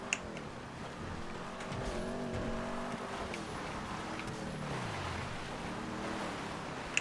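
Vapid Dominator muscle car in GTA V under full throttle on a dirt road, its engine droning steadily and rising in pitch for several seconds, loud and close with tire noise and no talk over it.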